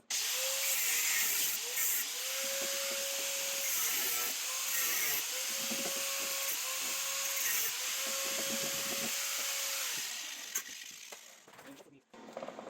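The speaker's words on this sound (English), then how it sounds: "So I'm just going to cut it here." A power tool cuts into metal on a Porsche 914 under restoration, a continuous loud grinding hiss with a wavering whine that pulses and restarts several times before tailing off near the end; no talking.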